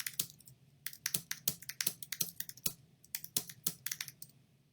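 Fingers type on a computer keyboard in quick, uneven bursts of crisp clicks, close and clear, with no voices present.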